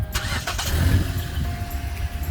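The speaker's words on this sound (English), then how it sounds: "you can just push the button and it will start the engine" A Hyundai Elantra GLS engine is started by push button, giving a quick cranking catch that settles into a steady idle nearby. No one talks.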